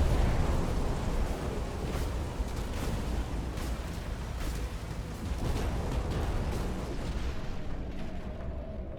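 Mech weapon fire in the Phantom Brigade tactics game, a dense continuous barrage of booming shots and impacts sustained for the whole stretch at steady loudness, with no talk over it.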